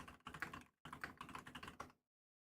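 Clicky computer keyboard being typed on in two quick bursts with a short pause between, close and crisp, ending in silence.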